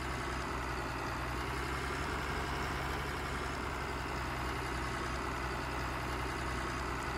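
Tractor engine idling steadily in a farming video game, a continuous low mechanical drone with a constant hum, close and even, with no talk over it.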